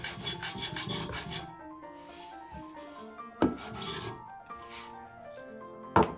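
A hand plane shaving wooden blocks down to height, with rhythmic rasping strokes across the wood, close and dry, a quick run of strokes first and then slower pulls, the last ones ending in sharp knocks.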